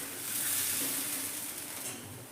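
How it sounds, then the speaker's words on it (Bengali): Soft semolina (rava) dosa batter with vegetables spread thin across a hot tawa with a ladle, producing a steady bright sizzle that swells and eases over a couple of seconds, close and moderately loud, with no talking. "এবার হাতার সাহায্যে পাতলা করে দেখুন আমি ছড়িয়ে দিচ্ছি।"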